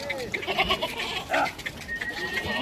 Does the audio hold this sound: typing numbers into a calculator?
no